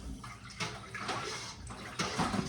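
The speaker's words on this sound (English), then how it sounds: "So I'm whisking it in using a back and forth motion." Milk being whisked back and forth with dissolved rennet tablets for cottage cheese on a farm, giving soft, continuous watery sloshing with a few louder splashy strokes, close and fairly quiet.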